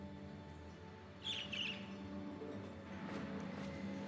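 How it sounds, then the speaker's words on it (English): Birdsong in Trails of Cold Steel, a short twittering chirp phrase rising over a steady low game soundtrack hum, fairly faint and briefly repeated. "A bird?"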